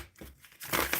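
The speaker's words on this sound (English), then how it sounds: "All right, so I am shuffling" Brief crinkly rustling of tarot cards being shuffled, a few soft close papery sweeps lasting about a second.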